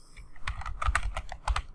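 Steady, close typing on a computer keyboard while entering Tamil text in Google Chrome: a rapid run of crisp, distinct key clicks at an even pace.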